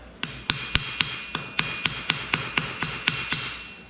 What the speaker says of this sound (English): So if you want it to stay flat, you have to periodically use a rawhide mallet